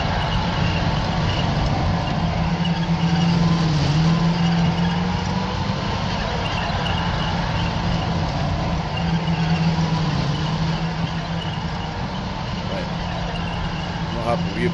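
Military vehicle engines in the wargame Combat Mission: Shock Force 2 drone loudly and continuously, a heavy idling rumble with a steady low hum that holds level for the whole stretch.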